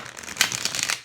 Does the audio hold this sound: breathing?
no